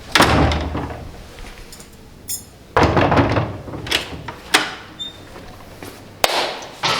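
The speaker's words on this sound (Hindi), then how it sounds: "दरवाजा खड़कायो, पहले नॉक करियो" Knocking on a door in an Airbnb in Guatemala: several separate bursts of hard raps with sharp thuds between them, close and loud, without any talking.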